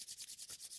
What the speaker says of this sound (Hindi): हाथों को रब करेंगे